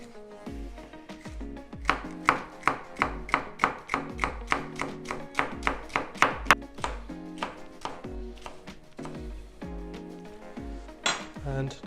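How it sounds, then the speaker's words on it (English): A knife cuts through stacked green mango halves on a board for a salad, with a rapid run of crisp rhythmic chops and thuds that quicken, pause and return. "I'm going to cut it into two, pile them up together, and then just let my knife do the work"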